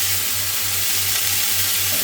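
Peppers and onions frying in a hot pan, a steady dense sizzle with a faint rhythmic low hum beneath, constant and close.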